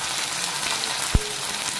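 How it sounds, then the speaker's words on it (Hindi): Tomatoes dropped into a pan of browned onions: a steady, loud frying hiss throughout with one brief soft thud as they go in, no talking. "तो चलिए अब मैं टमाटर डालती हूँ।"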